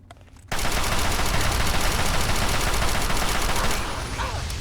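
Rapid-fire gunshots from a weapon in Fallout 3 burst in after a quiet start, a dense loud rattling stream of shots that eases off slightly near the end.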